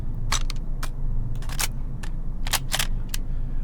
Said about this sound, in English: I'm using a slide bolt there for my bolt action shooting